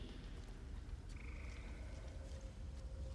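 A Falinesti Peeper frog in the game Elder Scrolls Online croaks faintly over a steady ambient hum, with a couple of thin tonal calls drifting through.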